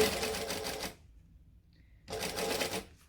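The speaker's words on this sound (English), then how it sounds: "We're just going to sew. I'm sewing 1/8 of an inch from the edge." A sewing machine stitching a straight seam through fabric an eighth of an inch from the edge, two close rapid mechanical runs with a short silent pause between.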